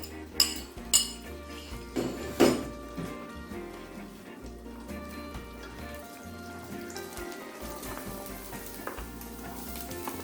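Eggs hit a hot pan for Jamaican-style jerk shrimp fried rice, giving a few sharp clatters and a sudden burst of sizzling that settles into a steady, moderate fry with faint background music and no talking.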